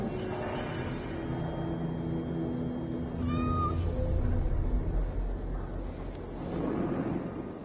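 A cat meows in Assassin's Creed Valhalla aboard a Viking longship, a short rising-falling call heard once clearly over a steady bed of wind and water ambience, with low rumbling underneath.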